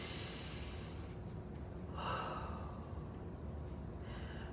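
A single deep inhale during a core exercise workout, drawn in close and audibly over a second or so, then fading back into a quiet, hissy background.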